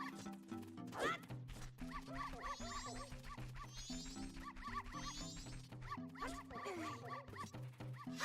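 Dogs at the dog race in the video game Majora's Mask, sounding as repeated short electronic barks and yips over a bouncy looping game melody.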